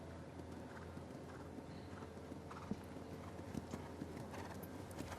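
At the FEI Eventing European Championships dressage, a horse's hooves clip-clop in a quiet trot on the arena surface. The beats are faint and fairly regular and sound some distance off, over a low ambient hum.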